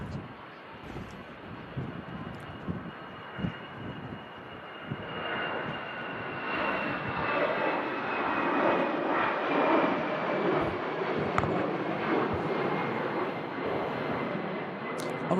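A Brussels Airlines Airbus A319 lands at Manchester Airport, its jet engine roar building steadily from moderate to loud over wind noise, with people talking at the start.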